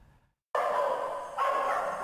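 A puppy at a county-run shelter for abandoned animals yelps and barks anxiously. A short silence gives way to a loud, continuous run of high, strained yapping close by.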